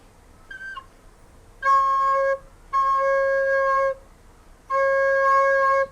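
A recorder plays a low C note three times, each held steadily for about a second with short pauses between, clear and close.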